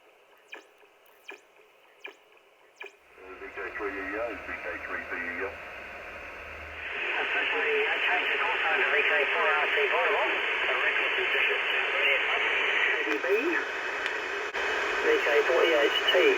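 An 80-meter ham radio signal comes through a homebrew chocolate-box receiver. A few clicks lead into steady static hiss, and faint, warbling voices of a distant radio net drift through the noise.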